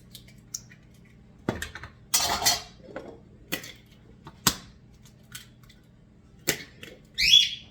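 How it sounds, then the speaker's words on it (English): Eggs cracked one after another into a bowl for an Italian salami and cheese crostada: sharp taps on the rim spaced a second or two apart, with a brief rustle and a final clatter, close and fairly loud. "And now we want 4 eggs. Just crack it in the same bowl"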